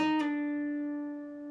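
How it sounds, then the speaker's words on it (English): A single plucked guitar note rings out clearly, sliding down to the 7th fret of the G string so its pitch shifts slightly as it sustains and slowly fades. "You'll pick that note and then slide down to the 7th fret of the G string."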